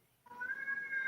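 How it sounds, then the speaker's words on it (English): A pet cat lets out a single drawn-out meow, fairly faint and rising in pitch, in an otherwise quiet room. "Mark, your cat is out of control tonight."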